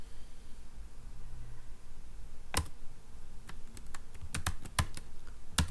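Typing a file name on a computer keyboard: after a quiet start, a single keystroke is followed by sparse, irregular clusters of crisp, close key clicks.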